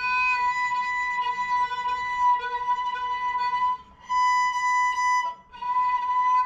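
A violin harmonic on the E string, bowed at a sweet spot to sound a B one octave higher, rings as a sustained bright tone with clean overtones, briefly breaking off twice before resuming, heard alone.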